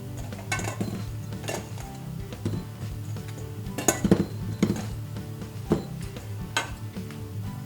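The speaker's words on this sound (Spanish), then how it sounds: "Ponemos ya peladas las cebollas en una sartén." Peeled onions go into a frying pan, giving a string of close metallic clinks and knocks against the pan over a low background hiss, with no talking.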